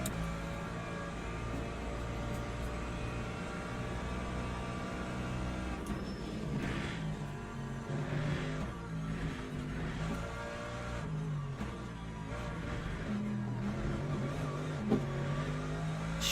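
BMW GT3 race car in the Le Mans Ultimate racing game, its engine droning steadily and loud throughout with shifting revs and a brief rise as the rear steps out, no talking.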